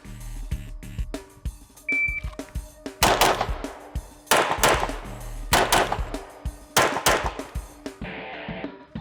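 A shot-timer beep, then close, loud pistol shots in quick pairs and short bursts during a competition shooting drill, with sharp cracks separated by brief pauses.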